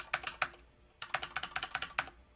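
Numbers are typed on a computer keyboard in two quick bursts of clicky keystrokes separated by a short pause, close-up and fairly soft, with no talking.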